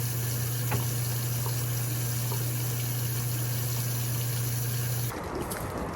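Water runs steadily for a shower and tooth brushing, a continuous rushing flow with a low pump-like hum underneath that cuts off near the end, leaving quieter running water.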